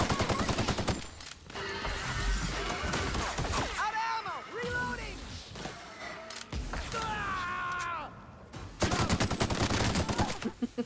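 Rapid bursts of gunfire from the video game The Outer Worlds crackle loudly at the start and end, with sweeping sci-fi weapon tones and chaotic combat sounds in between, while a voice speaks over the action.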